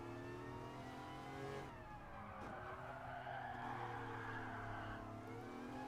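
A car in the video game Gran Turismo Sport drifts and skids on a circuit, its engine droning steadily at a low volume while a brief tire squeal rises and fades midway through.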